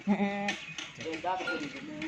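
A Rajanpuri goat, a nanny kept with her three kids at a livestock sale, lets out a loud wavering bleat up close, and someone talks over the following bleats.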